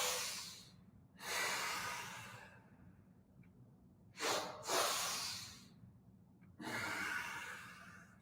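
Slow, controlled breathing during a guided breathing exercise: long airy inhales and exhales with pauses between them, close and clear, with a faint low hum underneath.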